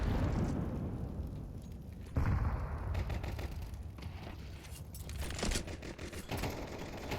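Pistol gunfire rattles through a Counter-Strike match on the Nuke map, Glocks and a P250 firing in quick irregular bursts and single cracks amid shuffling game noise, fairly faint and without talk.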